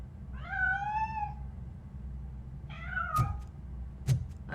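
A cat meows twice in the video game RoboCop Rogue City, two clear drawn-out meows with a couple of sharp knocks between and after them over a low background hum.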